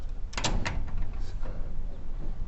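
A residential garage door with a jerky motion fault slides shut, giving a few sharp rattling clunks early on, then a softer rumble and a settling thud, fairly close and with no talking.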